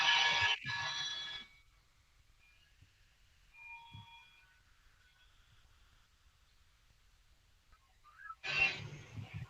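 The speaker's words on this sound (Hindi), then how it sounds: "वेट करो, लग रहा है मोबाइल है हो रहा है एक।" A mobile phone rings in a classroom, with a bright ringing burst at the start and another at the end separated by a quiet stretch holding faint tones.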